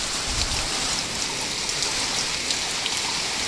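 Steady heavy typhoon rain drums continuously on surfaces close by, a dense wash of hiss with small splashy drops standing out, loud and even throughout, with no speech.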